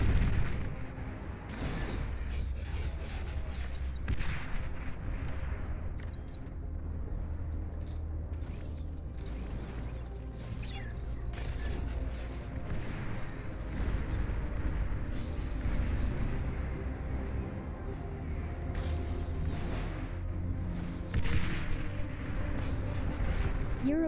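Rumbling artillery fire and explosions in a video game, a dense continuous wash of booms and bursts with sharper cracks scattered throughout, loud and sustained without a break.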